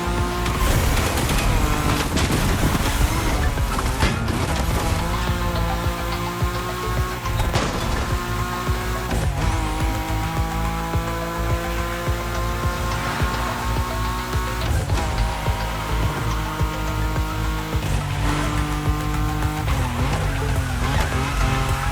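A BMW M5 Drift Edition in the racing game The Crew Motorfest drifts around a track, engine revving and tires squealing in long sustained screeches with rising and falling pitch, loud and continuous.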